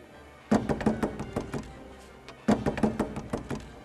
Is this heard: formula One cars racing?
no